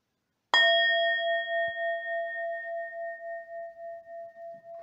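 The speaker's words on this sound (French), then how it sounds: "nous allons d'abord commencer par un petit gong de bol tibétain pour purifier" A Tibetan singing bowl is struck once like a gong, a bright metallic strike that rings on in a long, pure, slowly pulsing hum and fades gently while still sounding.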